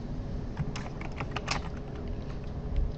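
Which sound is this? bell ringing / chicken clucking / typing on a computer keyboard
typing on a computer keyboard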